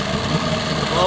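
A 1988 6hp Johnson Evinrude outboard motor with brand new plugs runs steadily, a close continuous engine drone with a throbbing low end.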